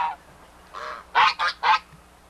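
An old gander on an Arkansas farm honks harshly, one short call then a longer one, followed by three loud rapid honks close by, with quiet pauses between.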